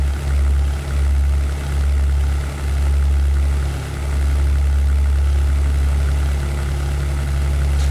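Engine of a P-51B Mustang in the European Air War flight game, a steady heavy propeller drone with strong low rumble and a slight periodic pulsing, continuous and loud throughout.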